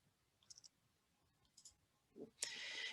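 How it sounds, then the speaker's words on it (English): Computer mouse clicks, small faint clicks in two quick pairs, the first under a second in and the second around a second and a half, with a quiet hiss in the background. "I can just click on that count and click OK"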